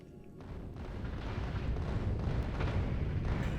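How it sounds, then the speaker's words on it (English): Explosive rockets slam into thick asteroid fields in Factorio Space Age, a swelling, rumbling barrage of overlapping blasts that builds from a quieter start into a dense, steady roar of detonations. "those explosive rockets, because the asteroids are so thick, they deal damage all around"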